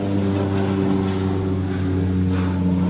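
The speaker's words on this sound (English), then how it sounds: "Wow, an airplane." A low-flying airplane heard overhead, a steady loud propeller drone with strong humming tones, close and continuous for the whole stretch, with no voices.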